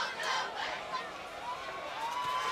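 A high school football crowd cheers and shouts after an extra point is kicked through the uprights, a steady roar of many voices.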